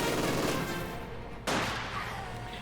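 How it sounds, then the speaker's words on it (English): Light machine gun fire crackles in sustained bursts amid a Company of Heroes 2 battle, with a second loud burst starting partway through and a sharp crack at the end. "rifle grenades and light machine gun there"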